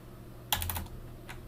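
A short burst of typing on a computer keyboard, a quick run of close, crisp key clicks over a low steady hum, followed by a single faint keystroke.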